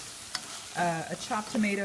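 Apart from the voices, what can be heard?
rice sautéing in a pan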